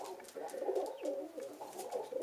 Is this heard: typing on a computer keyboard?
no